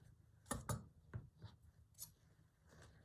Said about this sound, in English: but I might just cut this out.